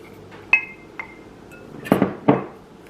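Almond and coconut flour keto dough for cinnamon rolls being mixed in a bowl, with a few sharp clinks of a utensil against the bowl and then two louder scraping knocks, close by and with no talk.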